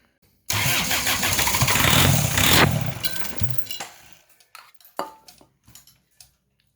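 A Hyundai car with a test light attached cranks and fires up, a loud churning start that settles into a running engine before dropping off into scattered clicks and brief knocks.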